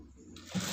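Sewing machine stitching a garment seam from the inside on a Shanghai-collar shirt, a short steady mechanical whir that rises in loudness near the end.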